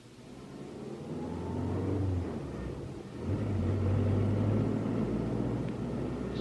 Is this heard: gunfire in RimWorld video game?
no